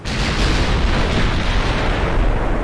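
A 16-inch naval shell strikes a warship in Ultimate Admiral Dreadnoughts, a loud, sustained rumbling boom of explosion and fire roaring steadily without any speech, close and heavy throughout.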